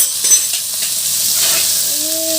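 Garlic, green chillies and shallots frying in oil for a Tamil appalam kulambu, a steady close sizzle with brief stirring scrapes and a faint tonal whine near the end, no talk.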